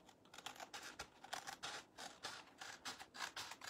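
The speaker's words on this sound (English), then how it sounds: "let me cut that out" Scissors snip through a piece of craft material for Christmas décor, a quiet, close series of irregular crisp cuts and rustles with no talking.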